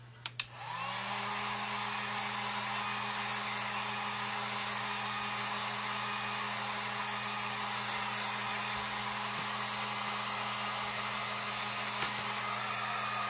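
A hot-air dryer blows over a painted truck cutout wreath, switching on with a click and then running as a constant loud whooshing hum for over ten seconds, close and uninterrupted.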